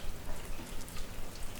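Steady rain falling on a surface, a continuous dense hiss of drops at even loudness filling the whole stretch, soft and fairly close, with no voice over it.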